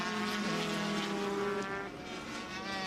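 A 500cc Honda racing motorcycle at full revs, its engine a loud, continuous high-pitched whine that holds steady and dips briefly before climbing again.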